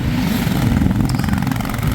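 A yellow RS motorcycle rides along a mountain road near Bhowali, its engine a steady, loud drone with low rumble throughout, mixed with wind and road noise and no clear pass-by peak.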